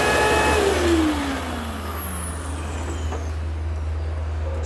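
A Eureka upright vacuum cleaner with a worn brush roll runs steadily, its loud motor hum holding constant and easing slightly after the first second, with no talking.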